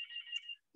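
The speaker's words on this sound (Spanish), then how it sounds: "A ver, llaman aquí el teléfono." A telephone rings once with a short, bright electronic trill lasting about half a second, faint and alone, followed by a brief soft sound.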